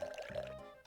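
Liquid pouring in the Cooking Mama video game, a short continuous trickling fill with a steady tone, near and moderately loud, ending with a brief splash.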